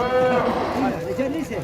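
Cattle low and bleat at a karapan sapi bull race, rising over a loud, continuous announcer's voice that keeps talking through the whole stretch.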